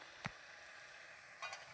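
Food shallow-frying in a pan over high flame, a faint steady sizzle with two brief louder crackles near the start and end, no talk.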